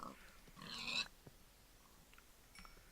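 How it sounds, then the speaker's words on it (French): A pig in the Minecraft video game gives one short grunting squeal near the start, followed by faint game sounds and small ticks over a quiet background, with no talk. "Prochain cochon que je vois, je lui coupe les jambes"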